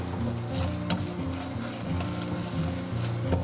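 Marshmallows are stirred in 35 grams of melted butter in a pan over low heat, with a soft continuous sizzle, scraping stir strokes and a few sharper clicks of the utensil close by.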